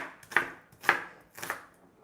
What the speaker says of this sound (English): The onions are gonna make my eyes water, but I'm just chopping these up coarsely